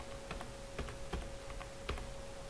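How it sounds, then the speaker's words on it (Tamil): Typing on a computer keyboard, a few separate key clicks spaced out irregularly over a steady background hum and a faint constant tone, with no voices. "இப்போ நான் இந்த செல்லில் டைப் பண்ணுறேன்"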